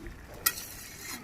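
Fresh fish dropped into a simmering curry in a pan on the stove, a steady low sizzle and bubbling with one sharp clink partway through, close and quiet with no talking.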